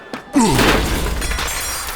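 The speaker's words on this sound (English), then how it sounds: "Oh, he just kind of shattered with one hit." An enemy in a video game shatters from a single hit: a loud, sudden crash of breaking, glassy debris bursts out after a brief thump, then rings and scatters away over a couple of seconds.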